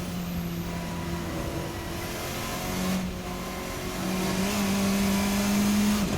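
A Race Sim Studio Formula RSS 4 open-wheel car in a racing simulator drones steadily at close range, its engine tone rising in pitch with a swell near the end.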